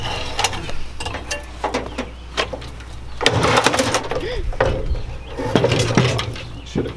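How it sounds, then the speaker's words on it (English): Four bolts being undone to free a piece from a roadside trash find: loud ratcheting and metallic mechanical clicking with clanks in bursts, under frequent talk. "you take off those 4 bolts"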